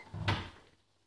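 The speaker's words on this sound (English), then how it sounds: "I'm opening the door." A household door swings open in a single short burst, a soft thud and rustle that fades quickly, with a puppy stuck on the stairs nearby.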